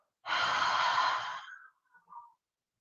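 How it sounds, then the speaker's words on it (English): A single deep, slow breath taken during a classical mat flow exercise: a broad, airy rush that holds steady for over a second, then trails off into two soft, faint puffs. Close and alone, with no talking. "Take a deep breath in. And slow exhale out."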